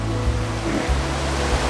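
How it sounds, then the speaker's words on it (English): Bear Creek Falls, a waterfall on a creek, roars as a steady, loud, close rush of white water with no break. "I believe it's considered Bear Creek Falls"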